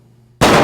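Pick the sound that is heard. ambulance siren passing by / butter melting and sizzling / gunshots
gunshots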